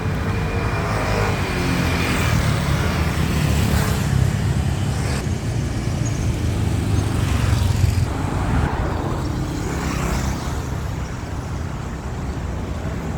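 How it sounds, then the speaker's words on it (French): Steady street traffic in Thailand on a Sunday, with cars, buses and motorbikes passing in a continuous loud rumble, engines swelling and fading as vehicles go by, with no talking. "comme vous pouvez le voir, il y a encore beaucoup de circulation partout"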